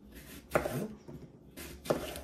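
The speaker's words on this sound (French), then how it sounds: "pour faire une tarte aux pommes, on va couper des pommes" Apples being cut for an apple pie, two short crisp chopping strokes about a second apart, close and fairly clear with faint background noise.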